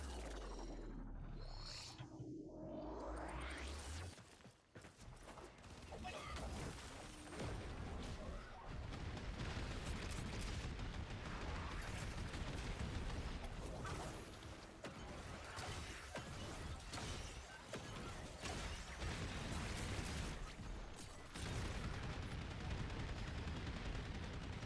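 Rapid, sustained gunfire from a first-person shooter video game, dense loud bursts and crashes running almost continuously with sharp impacts throughout.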